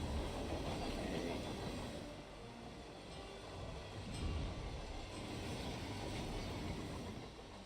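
A train in the Romania level of the game Hitman rumbles along in a faint, steady roll with soft rail clatter and no voices.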